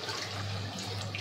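Steady running water from a tap while washing up in a bachelor's kitchen during tomato rice cooking, a continuous close splashing hiss with a low hum beneath, no talking.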